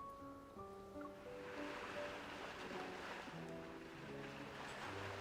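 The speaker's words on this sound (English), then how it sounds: "Why do I hear waves in the background?" Ocean waves wash in a steady soft roar behind gentle synth tones in a video game scene, faint and continuous without talk.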